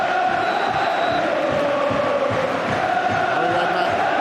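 A football crowd at a Portsmouth home match in the UEFA Cup against Guimaraes keeps up a steady, loud roar of mixed chanting and cheering from a packed stadium, with faint commentary voices underneath.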